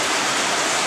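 Food rinsed under a running tap, a loud, steady, close rush of water that stays even throughout.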